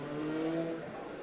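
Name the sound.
car passing outside the house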